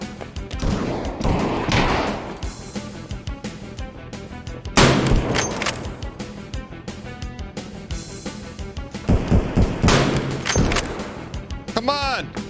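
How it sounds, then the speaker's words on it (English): Gunfire in the video game Escape From Tarkov: several sharp, loud shots and bursts ring out at irregular intervals with echoing tails, while a player talks over them. "Where are those shots at?"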